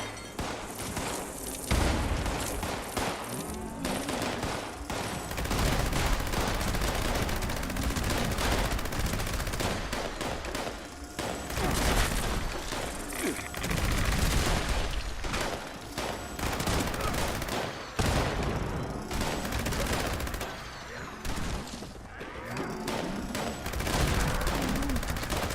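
Dense, continuous gunfire from the video game Fallout 76, with rapid automatic bursts and booming shots layered into a loud, relentless firefight and almost no pauses.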